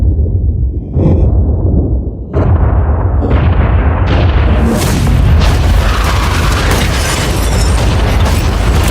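A blast set off on a yacht, heard as a series of heavy booming detonations that build into a loud, sustained roaring rumble, with no voices.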